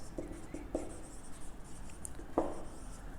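Chalk or pen writing out an equation during a maths lecture on spheres and tangent planes: short scratchy strokes and taps in uneven bursts, close and fairly quiet with no speech over them.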